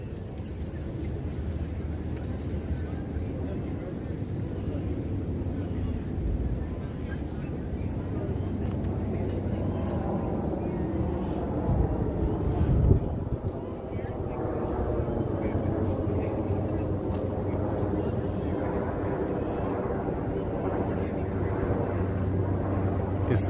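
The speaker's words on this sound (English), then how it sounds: "Is that a star or is that an airplane? I think it's an airplane." A plane or helicopter flies over Battery Park Esplanade in New York at night, a faint, steady engine drone that slowly swells and fades, with people talking over it.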